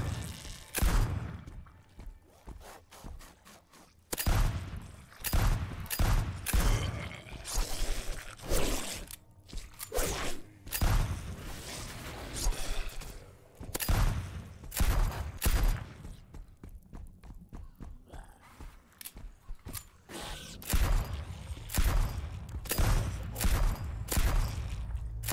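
Rapid bursts of gunfire from the demon killer gun in the video game Blood Reaver, loud and close, with dense volleys and short pauses continuing steadily throughout.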